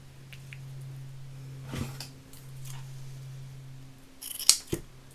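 Scissors cut two pieces of material for a handmade Christmas card, a few crisp snips close by, the sharpest closing near the end over a quiet room hum.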